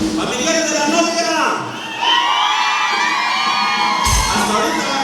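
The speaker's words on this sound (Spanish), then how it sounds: "gritan los familiares de la novia" The bride's relatives at a wedding in San Francisco Ozomatlán, Guerrero shout and cheer loudly as a crowd, a sustained roar of yells and whoops with a brief dip before surging again.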